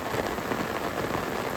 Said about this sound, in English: it was pretty much raining the hardest that it had all day